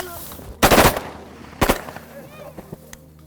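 Two loud, close shotgun blasts from waterfowl hunters shooting from blinds, about a second apart, with faint voices and movement afterward.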